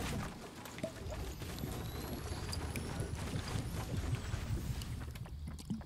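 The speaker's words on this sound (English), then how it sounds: "You can hear the footsteps." Footsteps of a nearby player in the Fortnite video game, a steady muffled patter of rapid steps under a constant bed of game ambience and noise, running continuously without pause.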